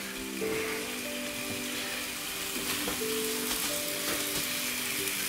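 Meat cooks on a George Foreman smokeless indoor outdoor grill with a constant, even sizzle and hiss, a few faint tones and clicks over it, steady and close with no talk.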